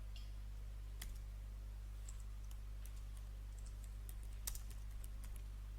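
Typing on a computer keyboard: scattered, faint key clicks tapping irregularly over a steady low hum.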